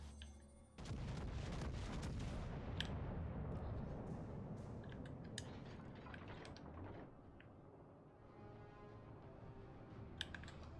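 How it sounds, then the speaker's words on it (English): Heavy naval gun salvo from the battleship Arkansas in World of Warships Legends, a deep booming blast that rumbles on and fades over several seconds, with scattered sharp clicks later. "Big old Arkansas guns."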